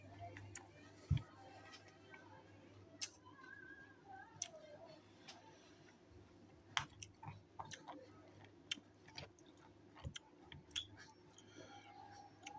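Crunchy chocolate-coated oat cereal like Honey Bunches of Oats is chewed close to the microphone, with soft irregular crunches and clicks plus a few sharper bites, quiet and unhurried.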